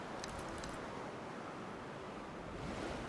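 Waves washing in a dinosaur park video game, a soft continuous surf wash with light wind noise and a brief faint metallic jingle near the start.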